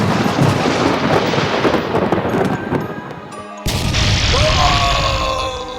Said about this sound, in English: he got hit with a lightning bolt and died.